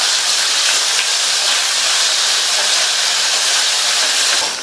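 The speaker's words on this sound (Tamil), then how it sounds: "இந்த ஸ்டேஜ்ல 2 கட் பண்ண சின்ன தக்காளியை சேர்த்து வதக்கிக்கலாம்." Small chopped tomatoes with a little salt sauté in a pot for a vegetable gravy, giving a loud, steady, unbroken sizzling hiss with no talking.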